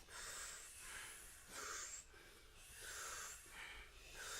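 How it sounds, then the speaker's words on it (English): Forceful rhythmic nasal breathing from a Kundalini Yoga exercise, about eight strong close breaths in and out with a hissing, wheezy texture, steady pace, no talking. "powerful breath"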